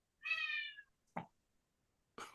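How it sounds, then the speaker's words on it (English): An old pet cat named Caddyshack meows once with a clear, drawn-out tonal cry, followed by a couple of soft knocks and a brief louder thump at the end. "Whose cat was that? That's mine. She's old."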